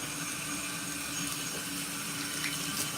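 Tap water runs steadily into a sink while dishes are washed up, a continuous close, fairly loud rush with faint clinks and no talk.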